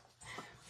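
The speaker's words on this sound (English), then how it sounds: "These dogs are out of control." A dog's short whimpering yip, brief and fairly faint, heard close in a quiet room.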